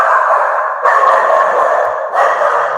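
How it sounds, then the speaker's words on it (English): A pet dog barks loudly and close by, a few sustained, rough barks, with no speech over them. "My dog just saw somebody."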